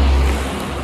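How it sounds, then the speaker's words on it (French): A car driving up a road in the south of France, a steady low engine rumble heard up close that fades slightly over a brief moment. "Attention, une voiture qui monte"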